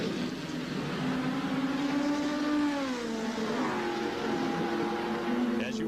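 The 1989 Gurney Toyota race car, driven by Drake Olson, laps the track at a Grand Prix, its engine a steady droning whine that rises and falls in pitch as it passes, heard from a distance.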